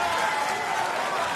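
A darts crowd at the WDF Lakeside World Championships finals cheers and applauds, a dense, steady wash of clapping and voices that stays loud and even throughout.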